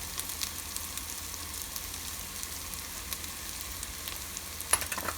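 Butter chicken base of ginger garlic paste sizzles steadily in a pan as turmeric powder is stirred in, giving a constant close frying hiss with a brief scrape of the spoon near the end.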